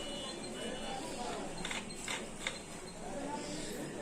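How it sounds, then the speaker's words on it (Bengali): A sewing machine runs with its handwheel turning, a faint, busy mechanical whir with a few quick ticking clicks in the middle. "এখন কিন্তু আমাদের মেশিনও ঘুরছে এবং চাকাও ঘুরছে একই সাথে"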